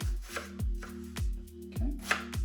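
A knife finely chops an onion on a board in steady, evenly spaced thuds, about one every half second, close by and fairly quiet with no talking.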